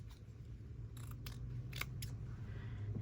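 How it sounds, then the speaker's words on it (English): Scissors snip through a strip of teal paper in a few short, crisp cuts close by, separated by brief pauses over a quiet background. "So let's see if we can cut a semi-straight strip out of it."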